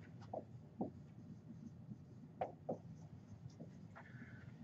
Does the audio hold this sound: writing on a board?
yes